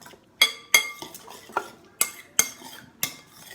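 A spoon clinks against a bowl while mixing ingredients, seven or eight sharp, bright knocks at an uneven rhythm, close and moderately loud with no talking.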